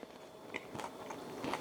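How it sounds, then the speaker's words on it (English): Crunchy bites into rehydrated freeze-dried pickles, a few soft crisp crunches spread across a brief moment, close and fairly quiet with no talking. "Pickles, they actually have a little bit of crunch still."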